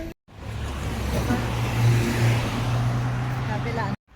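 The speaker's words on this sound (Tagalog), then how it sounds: "Ang bibilis ng sasakyan, guys." Traffic on a road rushes past in a steady, loud roar of fast-moving cars, with a constant low rumble lasting several seconds and a voice briefly audible under the noise.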